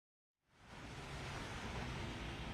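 Heavy pre-monsoon rain pours down in Mumbai during Cyclone Nisarga: after a brief moment of silence, a dense, steady roaring hiss rises quickly and holds loud and unbroken, with no voices.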